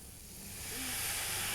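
A quarter cup of water hits a hot pan and bursts into a loud, steady steam hiss that swells and holds, a broad rushing sizzle with no talk over it.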